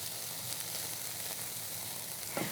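Onions and peppers sizzle in a pan with no oil, a steady close hiss of frying that carries on evenly throughout with no talk.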